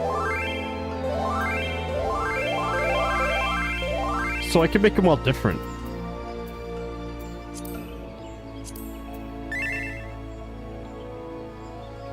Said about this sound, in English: Notification sounds?